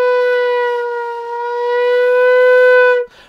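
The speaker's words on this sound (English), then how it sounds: "rolling that flute in and out and just hearing what it does to your sound" Flute holding a single sustained B note while being rolled in and out, a clear steady tone with slight swells in loudness, close and alone before stopping abruptly.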